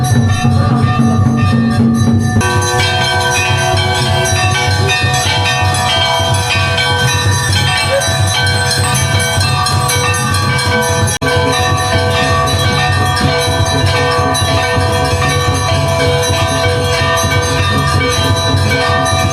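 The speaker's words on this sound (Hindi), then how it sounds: "मंदिर की घंटियों से पूरा मंदिर यहाँ पे गूंज रहा था अभी" Hindu temple bells ring during evening aarti at Ghodakhal temple in Uttarakhand, a loud, dense and continuous clanging that fills the space for the whole stretch, with heavy low rumbling beneath.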